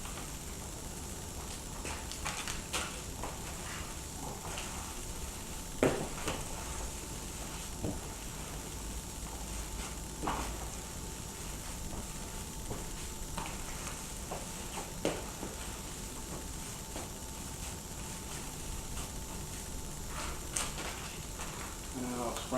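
Hands mixing ground meat with curing salt and seasoning for homemade summer sausage, faint continuous squishing and rustling with occasional soft knocks, under a man's intermittent speech.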